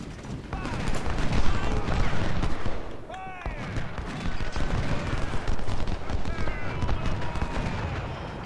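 Units firing in the Ultimate General: Civil War video game: dense, continuous rumbling volleys of musket and artillery fire, with a voice talking intermittently over the battle.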